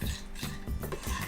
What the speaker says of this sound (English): Swirl the pan around, and then you can slowly stir it with a spoon